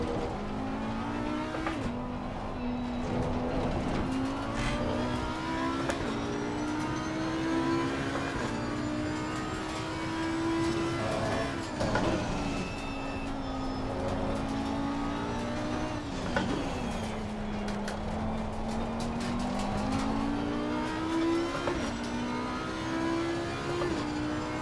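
A GT3 race car engine in Assetto Corsa Competizione revs up and down through repeated gear changes, loud and close, with brief tire squeals between long howling pulls and no talk.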